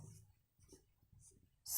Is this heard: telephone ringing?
no